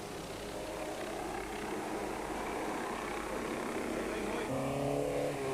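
A Toyota rally car engine drones steadily at speed, a sustained mid-distance roar that rises slightly near the end, with a commentator's voice faintly beneath.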